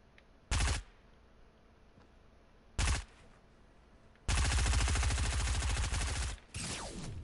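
SMG fire in the Fortnite video game: two short close bursts, then a long sustained loud burst of rapid shots with a final shorter burst, no talking over it.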